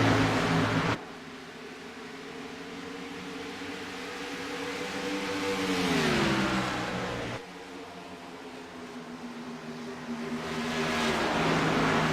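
Race cars roar back to full throttle on a restart after the pace car pulls off, engines rising in pitch as they pass close by, then a second surge of revving cars sweeps through.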